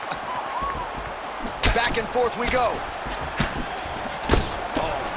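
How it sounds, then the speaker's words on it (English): Punch combination landing in a UFC 5 video game bout between Alex Pereira and Muhammad Ali: a few sharp, heavy smacks spaced over several seconds, heard under a commentator's voice. "punches in bunches as he lands another combination there"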